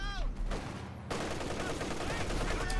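Maxim machine gun opening fire in the Company of Heroes 2 WWII strategy game, sustained gunfire and explosions blending into a dense, loud battle din throughout, with a brief whistling shell sound near the end.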